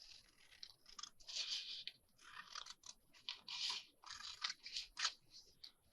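Scissors snip through paper while making craft tags, in a series of short, crisp cuts close up with brief pauses between them.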